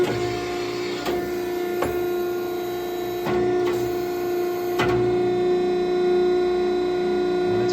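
A pipe bending machine runs its reverse cycle with a steady loud motor hum, broken by several sharp clunks or clicks spaced a second or so apart.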